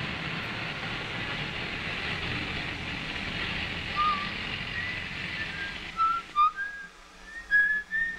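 A person whistles a tune, faint at first and clearer toward the end, over a steady rumbling rail or engine noise.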